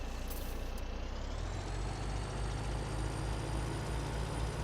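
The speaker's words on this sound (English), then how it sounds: "Here's our logging truck." Logging truck in Farming Simulator 17 with an opening hiss of air brakes, then a steady loud diesel engine drone that holds without a break.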